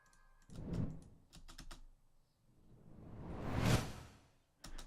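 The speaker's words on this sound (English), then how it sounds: "That thing right there, the whoosh." Two broad whoosh sweeps rise and fall, each building to a loud peak, with short clicky transient hits before and after them as a sound effect sample.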